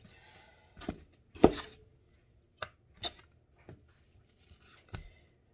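A knife slices through apples on a cutting board in a handful of separate crisp chops and cuts, irregularly spaced and close up, with quiet pauses between.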